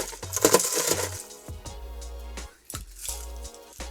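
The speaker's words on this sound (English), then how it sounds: "Bit more crushed ice." Crushed ice tumbles into a banana daiquiri glass with a run of close, bright clinks and rattles, separate chunks clattering over a low steady hum.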